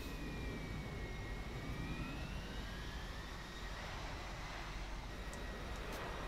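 An F-16 fighter jet engine in the flight simulator Infinite Flight gives a steady, loud roar with a thin whine that slowly rises and falls, continuous throughout with no talking.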